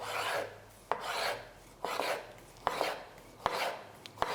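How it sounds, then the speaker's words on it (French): Knife passing through a tomato into thin slices, each stroke a soft rasping drag ending in a sharp click on the board, repeating about five times in a steady rhythm, close and fairly quiet. "Je coupe assez fin les tranches de tomates."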